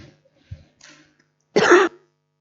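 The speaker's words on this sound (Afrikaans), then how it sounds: "Tolk het nou eers 'n hoesbui gehad." An interpreter clears his throat and coughs during a church service: a few small throaty sounds, then one stronger, harsher cough burst, close to the microphone.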